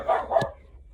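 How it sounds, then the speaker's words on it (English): A house dog lets out two quick, loud barks close by, the second sharper, and then falls quiet, with no talking. "Sorry, the dog's being a jerk."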